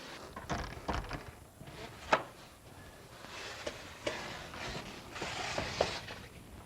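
A wheelchair user pushes through a door, giving soft thuds, knocks and brushing scrapes with a couple of sharper clacks, quiet and close, with no talking.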